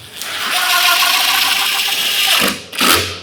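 Power drill driving two screws into the top of a bathroom sink cabinet as it is reassembled, a steady whirring burst of nearly two and a half seconds followed by a short second spin, loud and close with no talking.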